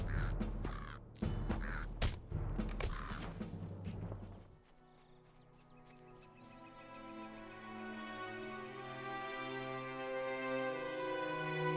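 Crows caw repeatedly in LOTR Online, a video game: a cluster of loud, harsh caws in the first few seconds, then a steady sustained game ambience or music bed underneath.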